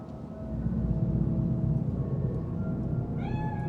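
A cat meows once near the end, a short rising cry from a Bakeneko cat spirit in the video game Cyberpunk, over a steady low rumble of game ambience.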